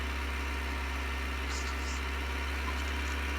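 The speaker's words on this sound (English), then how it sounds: "Bit of an S-bend and an uphill, so it slows the tractor down a little." A tractor engine labours at a low, steady drone as it slows on an uphill S-bend while carting muck, a continuous rumble with no clear change in pace.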